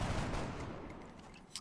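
Gunfire in the video game XCOM Enemy Within, a short rumbling burst of shots that fades out, with a brief sharp click at the very end.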